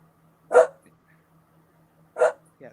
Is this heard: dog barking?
yes